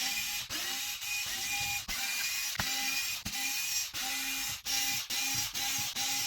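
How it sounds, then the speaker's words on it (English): A powered driver backs screws out of the center skid of a Traxxas WIDE MAXX RC car, a steady mechanical whir broken by sharp, regular ratcheting clicks about every half second to second, close and fairly loud. "we're going to take those off with the driver just to make a quick work of it."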